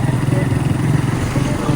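A motorcycle engine carrying two riders hums at a steady, close, loud pitch through a short stretch of riding, with no voices over it.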